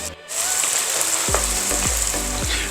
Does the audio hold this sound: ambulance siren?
no